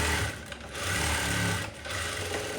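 Sewing machine stitching a blouse, loud close motor whir that runs in two bursts with a short dip between them, no talk over it.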